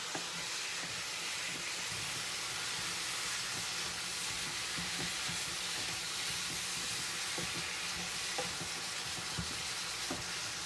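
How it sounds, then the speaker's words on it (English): Beef and onion browning in a frying pan while making stuffed peppers give a steady, close sizzle and hiss that runs throughout, with occasional small stirring scrapes and no talking. "brown up this beef and onion"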